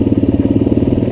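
A Suzuki DRZ dirt bike engine runs close by in a dirt field, a loud, steady, rapid thumping idle with a regular pulsing beat.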